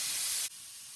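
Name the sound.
steam venting from pressure canner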